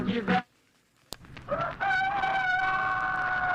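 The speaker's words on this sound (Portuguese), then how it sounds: "o galo canta pra saudar o sol" A rooster crows in a long, strained call within a Brazilian radio jingle, following a short sung phrase and a sharp click.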